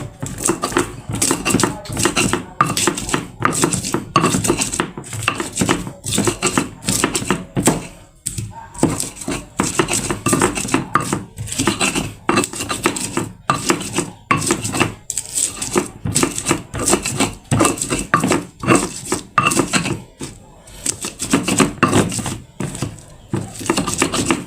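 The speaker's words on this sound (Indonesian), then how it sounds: "Kita ngulek dulu bumbu buat jengkol." Shallots, garlic, candlenut and red chili are pounded in a stone mortar, a rapid, steady series of close, hard thuds and grinding knocks repeating with brief pauses.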